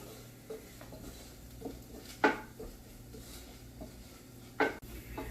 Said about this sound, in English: Now we will give it a stir and fry these dry ingredients together with the onion